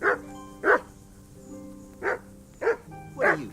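A dog in the video game Kingdom Come Deliverance gives five short, close barks at uneven intervals, with faint background game music between them.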